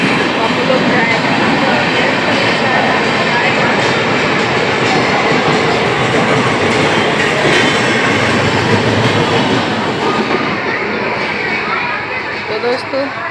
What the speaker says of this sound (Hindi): छपरा से सिवान जा रहा है जो ट्रेन है दोस्तों